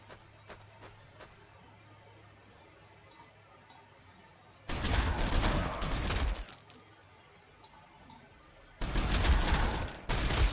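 Video game gunfire from Warhammer 40,000: Sanctus Reach comes in two loud, dense bursts of rapid shots with crackling impacts, separated by quieter stretches with scattered clicks.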